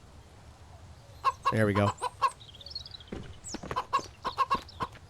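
A chicken in the survival game Mist Survival clucks in a quick run of sharp, nearby calls and squawks, with someone speaking briefly between them.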